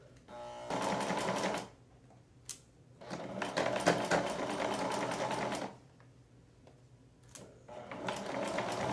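A sewing machine runs in fast bursts while stitching a dress bodice to a corset. Its close, rapid mechanical whirr stops and starts three times, with a few clicks in the quiet gaps.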